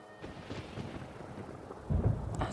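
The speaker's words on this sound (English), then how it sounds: "Paimon hears thunder!" Thunder in the video game Genshin Impact during a storm: a low, distant rumbling roll that swells louder toward the end, with no voices over it.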